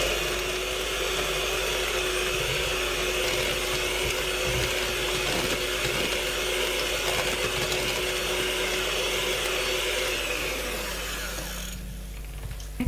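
Electric mixer creaming cake batter with eggs, a loud continuous motor whir with a steady mechanical hum and rattle throughout, easing slightly near the end.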